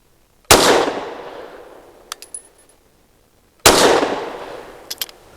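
Two sharp, loud 9mm pistol shots from a Canik METE MC9 Prime firing 124 grain ammunition, each with a ringing decay, spaced about three seconds apart, with faint clinks of brass hitting the ground after each shot.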